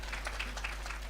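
A handful of audience members clap sparsely and softly at a Hindi comedy show, a thin patter of a few hands over a steady low hum.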